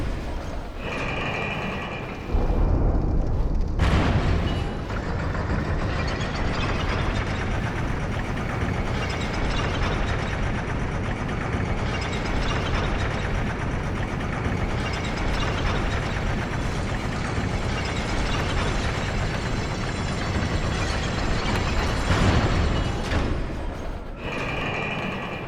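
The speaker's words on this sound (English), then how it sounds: "Alright, so we want to ride the top of the elevator down." An elevator mechanism in Dark Souls 2 grinds and rumbles steadily for a long stretch, loud and continuous, with clanking thuds as it starts and stops at either end.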